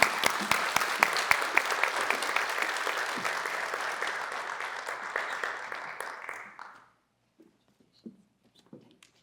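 Audience applause in a hall honouring an inductee at a university distinguished educators hall of fame ceremony. Warm, sustained clapping from a sizable crowd lasts several seconds, then fades out, leaving a few scattered claps and quiet room sounds.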